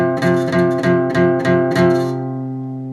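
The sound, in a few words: guitar playing two notes at 8th fret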